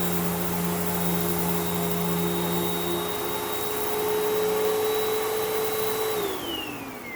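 A Hoover WindTunnel 3 Pro Pet vacuum cleaner runs steadily and loud, its motor whine holding a constant pitch before dropping slightly near the end as the setting shifts toward bare floor mode.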